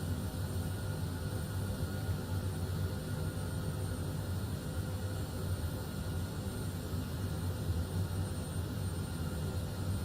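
Airbus A330 jet engines spool up in Microsoft Flight Simulator 2020, a steady, dense roar with a strong low rumble and broad hiss that holds level throughout, no voices over it.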